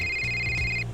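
A telephone rings with a single steady electronic tone lasting most of a second, loud and close, over a low background hum and no speech.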